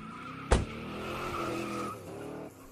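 A stolen car peeling away in a video game, with a sharp impact followed by a sustained tire squeal and revving engine that fades out.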